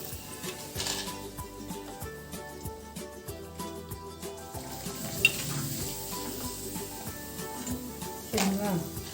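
Rice papad (appalam) frying in hot oil gives off a steady sizzle with bubbling bursts, while a person talks over it and a utensil now and then clinks or stirs.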